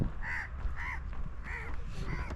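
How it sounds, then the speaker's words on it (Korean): Several crows caw in distinct bursts of harsh, repeated calls across an outdoor scene with steady background noise, at a cemetery-like landfill development site in Sri Lanka. "까마귀도 저렇게 울고 있고."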